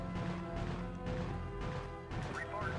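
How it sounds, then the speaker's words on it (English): In StarCraft 64, the video game, barracks get smashed with a dense crashing din, layered impacts and crunches over a busy game soundscape with steady background tones. "Didn't realise the barracks had been smashed."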